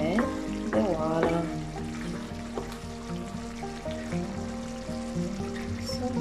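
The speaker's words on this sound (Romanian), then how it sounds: "Am amestecat ca să fiu sigură că nu se prinde de oală." Vegetable stew with eggplant, zucchini and potatoes being stirred in a pot, soft scraping and bubbling with a steady sizzle, close and moderate, under a sustained tonal hum.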